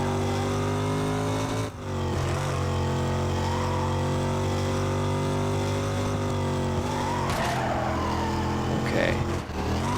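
A car racing in Need for Speed Carbon, its engine roaring loud and steady with gear-change dips and tire skids squealing near the end.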